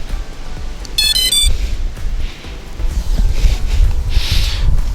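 A JJRC X1 brushless quadcopter drone controller powers on with a brief, bright beeping chime about a second in, set against low rumbling handling noise and faint background sounds.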